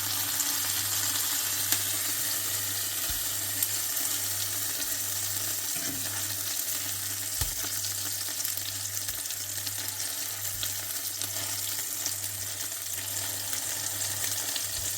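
Minced meat kebabs, made with egg, bread, dried fenugreek and spices, fry in a pan with a steady close sizzle and occasional soft knocks as they are turned. No one speaks.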